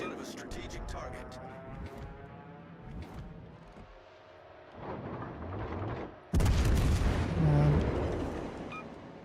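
Booming naval gunfire from the warship game World of Warships: Legends, heavy shots rolling out in the distance before a loud close salvo near the end, with someone talking over parts of it.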